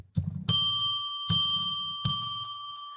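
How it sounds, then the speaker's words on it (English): A small bell is struck three times to open a sacred space, each clear ring sustaining and decaying before the next, spaced under a second apart and heard alone without talk. "let's ring a bell 3 times to declare sacred space"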